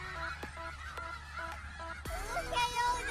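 In a Genshin Impact house area, game fowl give a rapid series of short, nasal honking calls in a regular rhythm, moderately close, with a brief burst of overlapping chatter-like calls near the end.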